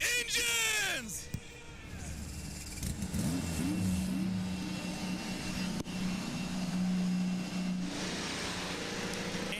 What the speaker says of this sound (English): Engines are fired.